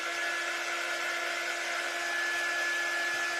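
A heat tool runs in a steady, loud whir with a fixed whine, drying paint on a scarecrow door hanger craft, with no one talking.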